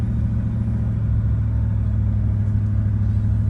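A vehicle engine drones steadily with a heavy low rumble while descending Mount Borah under light throttle, holding an even, continuous level throughout with no voices.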